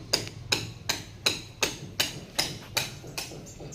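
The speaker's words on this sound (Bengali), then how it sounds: "দেখুন অপর দিকে লোক আছে দিনকে মেশিন দিয়ে কার্নিশটা ফুটো করে দিচ্ছি।" A machine boring a hole through a building cornice during plumbing work, heard as a steady series of about ten sharp, evenly spaced knocks, close and fairly loud, with no talking.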